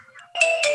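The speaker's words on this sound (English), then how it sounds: "Yeah, that is my ringtone." A phone ringtone bursts in abruptly, a bright synthetic tone in two quick loud pulses after a faint lead-in.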